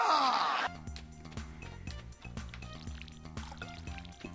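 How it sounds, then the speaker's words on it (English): Watering can pouring onto crops in Stardew Valley, a short splashy pour at the start followed by cheerful game music playing underneath. "In the meantime, we will water all of our crops."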